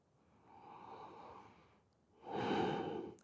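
Slow, deep yoga breaths taken during a held pose, a soft drawn-out inhale followed by a fuller, louder exhale, close and alone with no talking.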